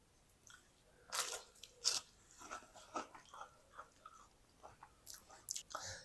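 Crispy fried potato pakoras crunch when bitten, a few sharp crackly bites followed by softer chewing, close and fairly quiet with no talking.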